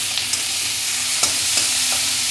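Radish greens frying in a pan hiss with a steady loud sizzle, broken by a few light stirring clicks against the pan.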